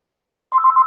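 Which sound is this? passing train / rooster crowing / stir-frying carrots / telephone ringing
telephone ringing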